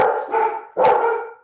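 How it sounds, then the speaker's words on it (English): A dog barks twice in quick succession, two loud, fairly close woofs with a short gap between them, with no talking over them. "That's not my dog."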